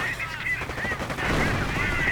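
A WWII strategy game battle fills the scene with continuous dense gunfire and explosive bazooka blasts, a loud unbroken crackling roar with no clear pauses, while a voice talks faintly underneath.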